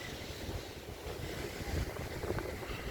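Breezy outdoor wind on a boardwalk, a continuous rough buffeting rush that swells and eases, with no talk over it.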